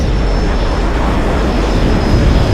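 An aircraft engine drones as a plane climbs in the video game Battlefield Iraq, a loud, steady propeller roar with a thin whine above it throughout, no voices.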